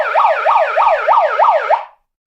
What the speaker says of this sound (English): With the music, with the sirens.